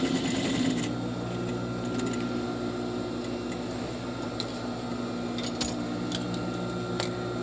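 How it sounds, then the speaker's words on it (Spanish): A sewing machine stitches a fabric waistband loop onto an A-line skirt, its motor whirring steadily and close for the whole stretch, with a few faint clicks and no talking. "la voy a coser a 1 centímetro"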